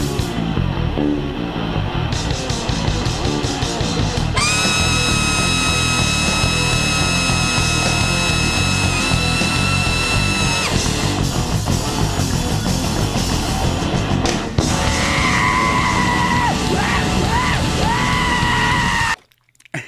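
A loud, unbroken wall of harsh noise with screamed vocals rises over it, and piercing sustained tones shift through it, from a danger music piece. It cuts off abruptly at the end.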